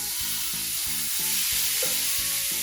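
Old Bay seasoned shrimp sizzle steadily in a hot pan, a close, continuous frying hiss with soft rhythmic stirring or shifting thumps throughout.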